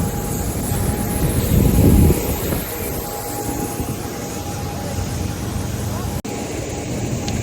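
Steady outdoor ambience at a very small Saint Lucia airport, a continuous broad roar like a distant aircraft engine with a louder swell near the start, and no clear speech.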